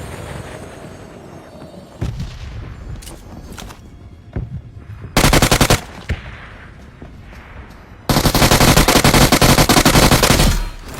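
Bursts of automatic gunfire in a battle royale shooter game, with quieter shots and movement at first, then two loud sustained volleys up close.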